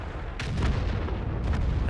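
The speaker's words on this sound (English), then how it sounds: "so I'm just gonna aim, and hit the Jagdpanda for 375" A tank cannon shot lands a hit on a Jagdpanther in the World of Tanks video game. A heavy, booming low-frequency blast is followed by a second burst of rumble. It is loud and close, with no talking.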